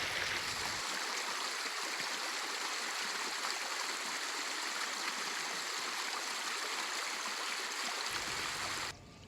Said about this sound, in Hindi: पानी का नदी का जो स्तर है लगातार उफान पर देखने को मिल रहा है